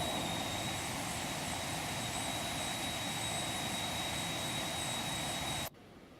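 A jet airliner's engines roar in a steady, dense whoosh with a thin high whine during a climb in X-Plane 12, holding level throughout before cutting off abruptly near the end.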